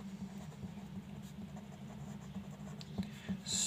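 Chalk or marker scratches across a board during a Hindi-language chemistry lecture on acid rain, a faint continuous scraping with a few sharper taps near the end, set against low room hum.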